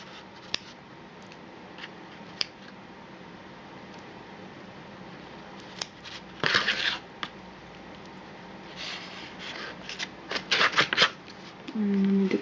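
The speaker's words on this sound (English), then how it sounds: "So I'm going to just cut through the muscle tissue here." Scissors cutting through chicken wing muscle tissue during a dissection, giving scattered soft snips and crisp clicks that build into a denser cluster of cutting sounds near the end, close and fairly quiet.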